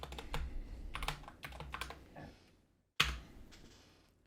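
Computer keyboard typing an AI image prompt, a quick clatter of keystrokes in uneven bursts, a brief pause, then a sharp key hit and a few more taps, close and fairly quiet.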